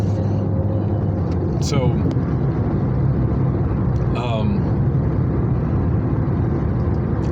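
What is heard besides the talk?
car driving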